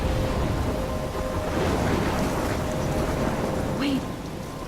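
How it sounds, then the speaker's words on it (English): A thunderstorm rages in the Life is Strange video game, heavy steady rain roaring with a low rumbling wash, dense and continuous from start to end. "I'm trapped in a storm?"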